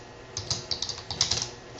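Code typed on a computer keyboard: a quick, uneven run of light key clicks, close and fairly quiet, with no voices.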